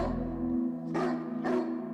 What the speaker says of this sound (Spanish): El perro empieza a ladrar